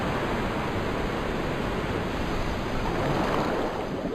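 Water rushing in to flood a room in the video game Resident Evil 2, a steady, loud broadband roar like pouring surf that holds constant throughout with no voices.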